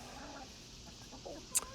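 Chickens from a backyard flock clucking softly nearby, with a brief sharper squawk near the end.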